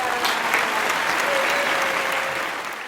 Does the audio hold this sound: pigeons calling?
no